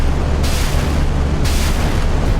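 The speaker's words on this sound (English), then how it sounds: "A mixture of thousands of 30 mil grenades and 76 mil rapid fire." Dense, continuous roar of thousands of 30 mm grenades and 76 mm rapid-fire shells hitting a frigate in a naval combat video game, loud and sustained with bursts of brighter crackle.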